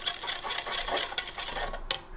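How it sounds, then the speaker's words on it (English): Short stirring of a bicarb neutralizer solution in a container, made while etching a Damascus knife blade: a steady close scraping, swishing rhythm that ends in a brief clink near the end, with no talk. "So we'll just give that a little stir"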